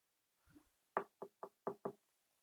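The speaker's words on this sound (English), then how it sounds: "there was a knock on the door." Five sharp knocks on a door in quick, slightly uneven succession, close and clear, after a faint soft shuffle in an otherwise quiet room.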